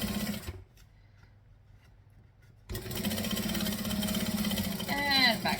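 A sewing machine top stitching fabric, starting with a short burst, pausing for about two seconds, then running in a steady fast whirring hum close by, with a rising whine near the end.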